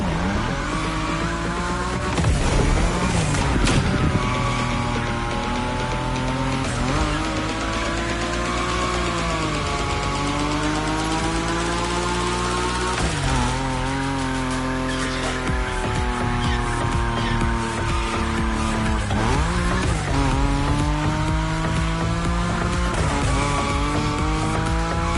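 Nismo car in a video game sliding at high speed, loud continuous tire squeal with wavering pitch over a roaring engine, sustained throughout with repeated skids.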